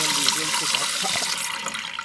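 Water pours steadily from a faucet indoors to rinse a tumbler, a continuous broadband splashing hiss that stays even for the whole stretch, with faint voice-like murmurs underneath.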